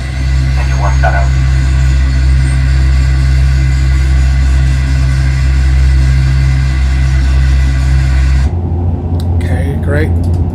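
An ATR72-500 engine 1 running in the Prepar3D flight simulator, a loud, steady low drone with a constant hum that continues unbroken before cutting to a quieter level near the end.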